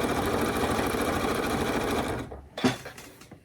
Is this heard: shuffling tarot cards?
no